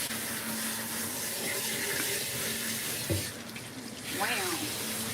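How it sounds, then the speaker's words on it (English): A running stream of water rinses degreaser out of a Ragdoll cat's coat during grooming, a continuous splashing rush with a dull knock partway through and a short wavering cry near the end. "We're rinsing out the degreaser first."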